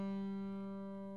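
A single normal G string plucked on a Taylor 562ce 12-string acoustic guitar, its note sustaining steadily and fairly quietly with a rich set of overtones throughout.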